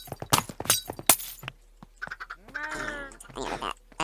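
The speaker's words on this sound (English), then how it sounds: "knock this glass out" A glass block is smashed in the Minecraft video game, giving several sharp, crunchy breaking bursts in quick succession, followed by softer chirpy in-game sounds and brief talk.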